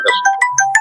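A phone ringing with a chirpy electronic ringtone, a few quick tonal notes in a short repeating pattern, loud and close.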